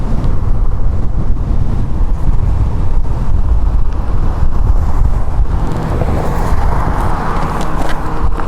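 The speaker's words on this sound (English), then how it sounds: "finding a pretty good wind right now." Heavy wind buffets the microphone while riding an ET Max electric vehicle outdoors, a loud constant roaring rumble throughout with no talking.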